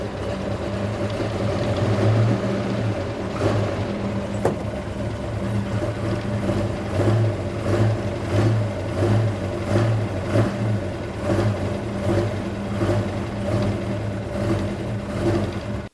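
A race car engine idles and revs in a steady loud rumble, with a faint rhythmic ticking clatter from loose valve rockers running through it, close and continuous, with no talking.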